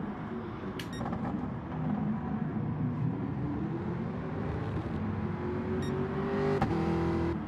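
A race car climbs the hill at Brands Hatch GP Circuit in an endurance race, engine droning steadily and rising in pitch near the end, with a sharp click or knock partway through and no talking.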